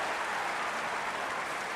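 Steady wash of applause from a large crowd at a 2012 London Paralympic Games track cycling event, dense and continuous without any distinct peaks.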